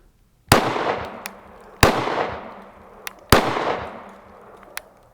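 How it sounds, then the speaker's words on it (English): An FN Five-seven pistol fires three loud, sharp shots at bulletproof glass, spaced about a second and a half apart, each followed by a long fading echo, with a few faint pops in between. "I think I'm gonna send 3 rounds at it, pretty close together, back to back"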